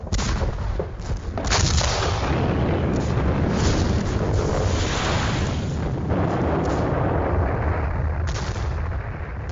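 A Soviet artillery bombardment pounds German lines in 1944 with hundreds of guns along a vast front, producing a loud, continuous, dense rumble of overlapping blasts and booms with no break.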